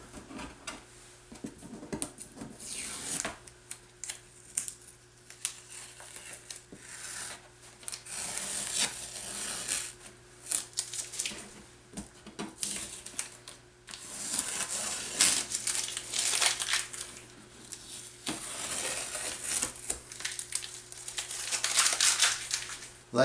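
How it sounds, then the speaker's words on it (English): Masking tape peeling slowly off watercolor paper, a soft sustained crinkling and rubbing rasp that swells and fades in long strips over steady faint background hum. "now we remove the tape"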